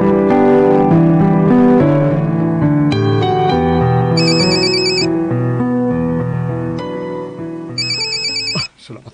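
A mobile phone ringtone plays loudly and close as an incoming call rings, a melodic tune with repeating electronic chimes that cuts off abruptly near the end.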